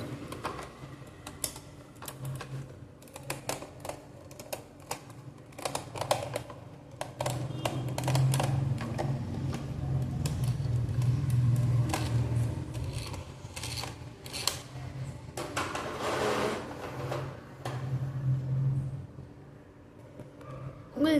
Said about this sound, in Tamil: உங்களுக்கு சில வியர்டான சவுண்ட்ஸ் கேட்டுச்சுல ஃப்ரெண்ட்ஸ். ஏன்னா இந்த வீல் வந்து சுத்தமாக ஒர்க்கே ஆகலை.